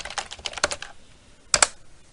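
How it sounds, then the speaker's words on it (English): Someone types on a computer keyboard: a quick burst of close, crisp key clicks, a short pause, then a couple of sharper taps, all fairly quiet with no voices. "And typing in."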